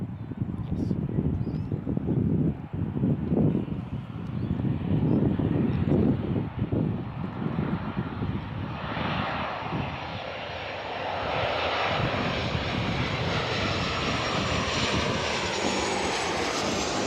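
A Qantas airliner arriving from Melbourne touches down at Gold Coast Airport, its loud jet roar swelling nearby then easing into a steadier rushing whine as it rolls out, with wind buffeting the microphone.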